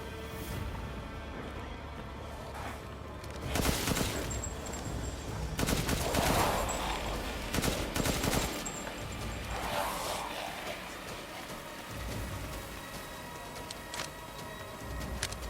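Bursts of rapid gunfire from a spread-type weapon in the video game Resident Evil Village, several loud volleys clustered around the middle with quieter stretches between.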